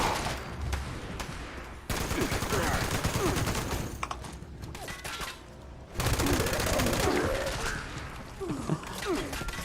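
Heavy gun firing in Fallout 76, sustained bursts of loud automatic gunfire with a brief pause midway, then resuming, with a voice talking over it.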